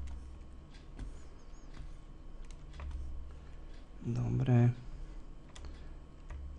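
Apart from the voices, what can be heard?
pressing keyboard shortcut keys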